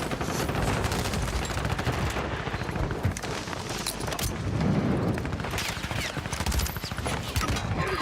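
Dense gunfire in Warzone: rapid automatic bursts and single shots crack repeatedly at close range, with heavier booms mixed in, nearly continuous throughout.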